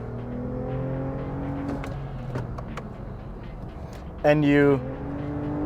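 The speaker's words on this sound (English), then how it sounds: "give it some gas, it sounds so good." A Toyota Avalon TRD V6 drones steadily from inside the cabin while people talk, then flares into a short rising rev after a downshift before settling back.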